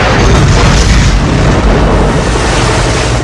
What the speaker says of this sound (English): The subs fire some torpedoes at him